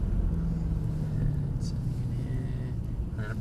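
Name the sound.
Mercedes-AMG car engine on track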